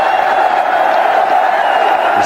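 Loud stadium crowd cheering continuously at Sawai Mansingh Stadium in Jaipur for a fast ODI half-century by Virat Kohli against Australia, a dense steady roar throughout with commentary talk over it.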